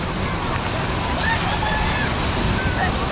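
Water sloshing and splashing around the log flume ride at Paultons Park theme park, a steady broad wash of rushing water with wind buffeting the microphone, loud and close throughout.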